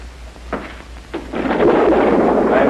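Thunder from an approaching storm, a couple of dull thumps followed by a loud, broad rumbling roll that builds and holds near the end.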